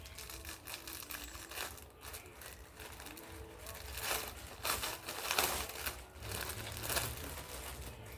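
A plastic packet holding a K95 face mask crinkles and tears open, with quiet rustling building into louder crumpling bursts near the end.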